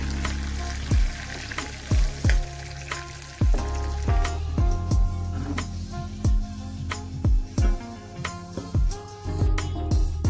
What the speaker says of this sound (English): I'm going to drain the excess fat and put this aside.